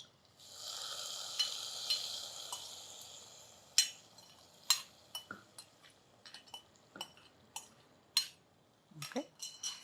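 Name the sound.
raisins and cashews frying in ghee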